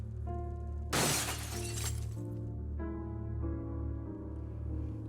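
Glass shatters in the horror hidden-object game True Fear: Forsaken Souls, a single loud, bright crash with a scatter of falling shards that trails off over a low, steady musical drone.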